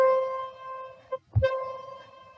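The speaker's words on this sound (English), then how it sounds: "I could change it to a clarinet," A clarinet holds a C note with a reedy, hollow tone, briefly interrupted by a click and a quick re-attack, then sustained alone at moderate volume.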